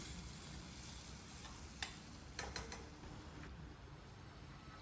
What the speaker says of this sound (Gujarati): કેપ્સિકમ આમાં થોડું આપણે સાતળી લેવાનું